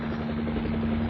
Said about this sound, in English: Good thing there happened to be a chopper around.